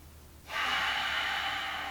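A long, steady exhale during a gentle yoga twist on the floor, a soft breathy rush that begins abruptly and holds at an even level for over a second, close to the microphone with no talk.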